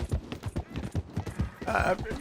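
A video game horse gallops in a quick rhythmic clip-clop of hooves, with a burst of noisy scuffling near the end.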